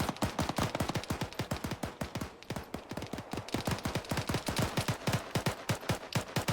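Rapid gunfire crackles in the Arma 3 video game: dense, evenly spaced bursts of sharp shots that continue loud and close throughout.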